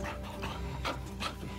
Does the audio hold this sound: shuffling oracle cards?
no